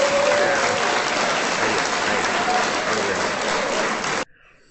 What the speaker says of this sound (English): We got clapping, which is a sound that we're going to trigger.